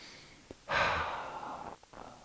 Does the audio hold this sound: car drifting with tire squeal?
no